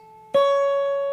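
A single high note picked at the 9th fret on the high E string of a guitar rings out sharply and sustains clearly alone, with a fainter earlier tone fading beneath it.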